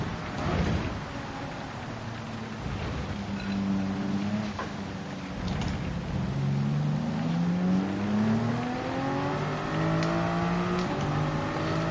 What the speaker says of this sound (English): Just hold the steering wheel straight and accelerate, we're away.